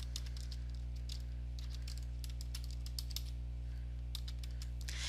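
Quick, light clicks of a computer keyboard as a player's name is typed, irregular bursts of keystrokes close by over a constant low electrical hum.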